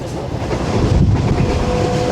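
Shalimar Express passenger train running through Chak Jhumra Junction, a steady loud rumble of wheels and carriage noise from on board with wind roar, continuous throughout.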